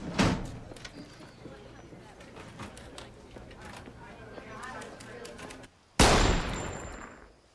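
Gunshots at a shooting range: one sharp report opens, then muffled cracks and clatter sit under people talking, before a second loud, close shot rings out and trails off.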